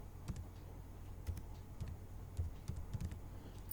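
Keys tapped on a computer keyboard while writing in OpenOffice Writer, soft irregular clicks spaced apart, quiet and close with no talk.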